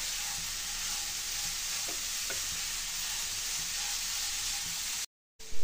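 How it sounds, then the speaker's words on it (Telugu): Grated carrots sizzle and fry in hot ghee while being stirred for halwa, a steady dense hiss with a couple of faint spoon clinks, close up, cut off by a brief silence near the end. "ఈ క్యారెట్ని బాగా కలుపుకొని కొంచెంసేపు నెయ్యిలోనే కుక్ చేసుకోవాలండి."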